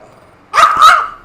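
A pet dog named Milo playing with his toy lets out one short, loud, close growling bark, rough and two-pulsed, after near silence.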